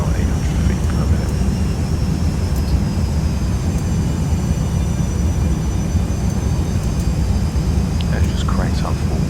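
Jet engines of a Boeing 737-200 airliner in the X-Plane 11 flight simulator, a loud, steady low roar with a faint high whine, constant throughout.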